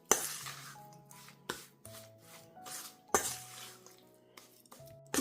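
Spoon stirring a thick biscuit and milk cake mixture in a bowl, clinking and scraping against the sides in irregular strokes with sharp knocks, close and alone.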